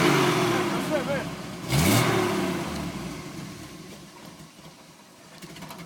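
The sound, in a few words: car engine started and revving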